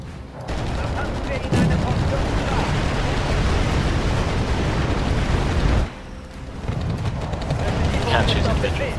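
Artillery shelling in the video game Wargame AirLand Battle: a dense, continuous barrage of booming blasts and crackling impacts, loud and unbroken, with a brief lull before the pounding resumes.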